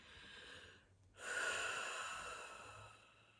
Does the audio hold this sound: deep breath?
yes